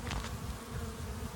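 Honey bees buzzing around a hive whose entrance has been disturbed, a dense, steady hum close by with no voices.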